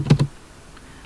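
A SQL query is typed on a computer keyboard: two quick close keystrokes, a pause, then one more sharp key press, clear and alone.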